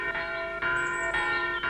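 A school bell rings in a herb garden setting, four even, resonant strokes in a steady rhythm, each tone lingering into the next, fairly loud and alone.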